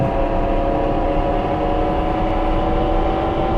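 A Japanese local train in the railway game Train Crew runs steadily, its loud continuous rumble and droning motor whine filling the whole stretch without pause or speech.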